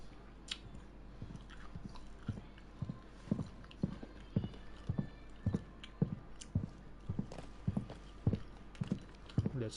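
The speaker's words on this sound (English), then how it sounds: "That's loud footsteps." Horse hooves clip-clopping in the video game Final Fantasy XVI, a regular run of soft, evenly spaced thuds at walking pace, moderately close but quiet, with no talking over them.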